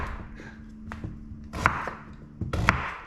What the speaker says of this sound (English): chop the potatoes up